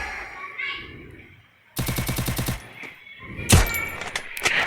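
Rapid bursts of automatic gunfire in the battle royale game Free Fire, a dense rattling volley followed by a heavier single blast and further shots, loud and close against game ambience.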